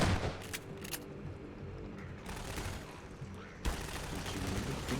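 Gunfire in the video game Half-Life 2: Lost Coast, with loud bursts of shots and booming reports over a dense, continuous backdrop of combat noise.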